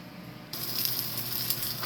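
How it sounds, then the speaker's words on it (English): Onion sweating in a pan on a home stove, a soft steady sizzle that starts abruptly after a quiet half-second and holds at an even, moderate level with no talk. "I'm gonna cook the onion just a little bit, just sweat it"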